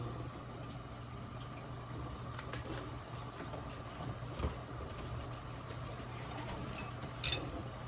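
Belizean boil up simmering in a pot with black pepper and salt, a soft, steady bubbling and hiss that runs continuously and faintly, with no voices over it.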